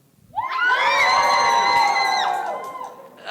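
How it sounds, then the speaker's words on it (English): Middle school honors band students at a music festival let out a loud, sustained group scream lasting a few seconds, many high voices together that then fade. "You screamed it louder in the band"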